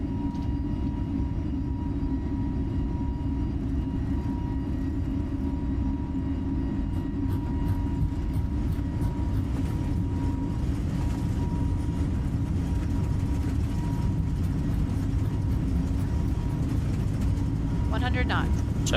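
Airliner jet engines in Microsoft Flight Simulator spooling up to takeoff thrust on the runway at Rionegro, a loud sustained roar with a rising whine that builds steadily throughout.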